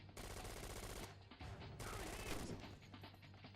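Rapid bursts of automatic gunfire in the video game Syphon Filter: Dark Mirror, two dense sustained volleys with a short break between them, loud and close.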